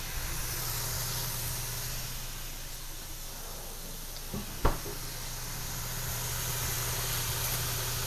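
Frozen mushrooms sizzle in butter in a pan while chicken marsala is being cooked: a steady, even hiss that runs throughout, broken once by a single short clunk.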